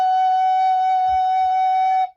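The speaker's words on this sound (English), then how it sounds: "And F sharp sounds like this." Recorder sustaining a low F sharp, one steady soft breathy tone of about two seconds played lightly with gentle air, clean and close with a few faint low bumps near the end.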